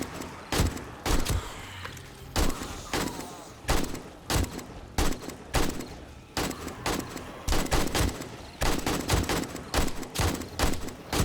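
Controlled bursts of 7.62 rifle fire in the survival game 7 Days to Die, short, loud, evenly spaced volleys repeating across the whole stretch, crisp and close with little talk.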